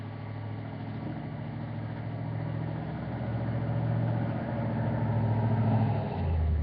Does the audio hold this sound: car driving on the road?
yes